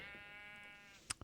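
A single sheep bleats on a video game sheep farm, a sustained wavering call standing out clearly, followed by a couple of short clicks near the end.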